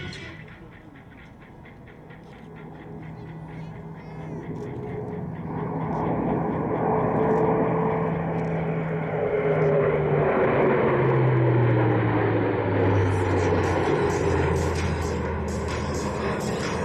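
An Airbus A400M military transport flies a tactical display, its propeller engines rising from a low rumble to a loud, sustained roar, and the pitch drops as it sweeps past.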